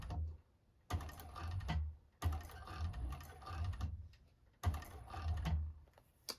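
A sewing machine stitches a bag in short runs, with a brief backstitch, its motor whirring and needle clattering in three bursts of about one to one and a half seconds, separated by quiet pauses.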